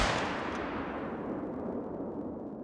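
A single gunshot effect: a loud, close blast that lands at once and rolls away into a long, fading rumbling tail, with nothing else heard.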